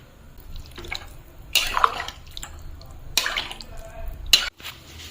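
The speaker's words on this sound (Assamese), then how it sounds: "ইফালে কৰাহিত পানী দি দিলো" Water splashes into a wok for boiling pork with turmeric, coming in a few bright bursts with dripping between them, close and fairly loud.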